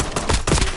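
A quick burst of rapid automatic gunfire in the battle royale game Warzone cracks out as several loud, close shots packed into under a second.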